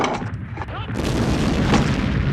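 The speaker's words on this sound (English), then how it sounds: "The French artillery now firing at clearly visible targets." French artillery fires on the German flanks at Verdun in World War I, with deep booming blasts rolling into a dense, continuous rumble of bombardment.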